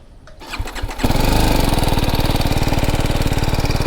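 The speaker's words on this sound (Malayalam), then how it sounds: "നമുക്ക് എന്തായാലും ഇത് സ്റ്റാർട്ട് ചെയ്ത് അതിൻ്റെ എക്സോസ്റ്റ് നോട്ട് കേട്ടോക്കാം." A BMW G310 R motorcycle engine cranks briefly, catches and settles into a loud, steady, rapidly pulsing single-cylinder exhaust idle, close up.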